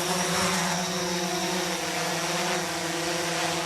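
A firefighting drone flies with a steady, close propeller whine that holds level and unbroken throughout.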